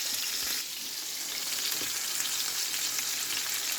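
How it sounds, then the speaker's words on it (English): Beef pot roast sears in hot oil in a skillet, giving a steady, dense sizzle close by that continues without a break, with no voices. "So we're searing it off in the skillet first"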